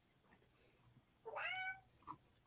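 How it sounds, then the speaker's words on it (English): A castle cat meows in a gothic horror video game, one clear drawn-out meow in the middle followed by a short faint chirp, quiet and fairly close against a soft background hiss. "I found the castle cat."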